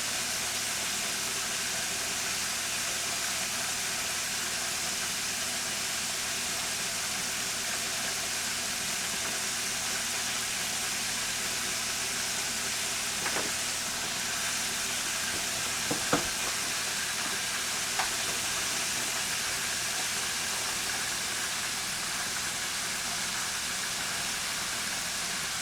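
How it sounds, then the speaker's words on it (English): Pork chops fry in hot grease over medium-high heat, a steady dense sizzle running throughout with a few faint clicks of utensils partway through and no talking. "I usually fry my chops on like a medium high"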